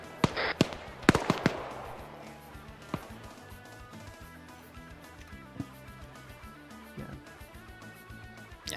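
Gunfire in a tactical combat video game rings out as sharp cracks clustered early, followed by scattered single shots over a sustained tonal game soundscape.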